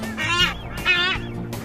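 Seabirds nesting on a windswept Galapagos bluff, giving two loud honking, nasal calls close by with lower grunting tones between them.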